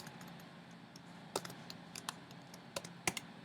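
Quiet typing on a computer keyboard enters a command in RStudio, a few sparse clicks at first, then a short irregular burst of sharper keystrokes, close and alone over a faint room hum.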